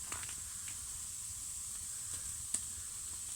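Thick Norwegian bacon (speck) frying in a pan at a snowy winter camp, giving a faint, steady sizzle and hiss with a couple of small pops, no voices.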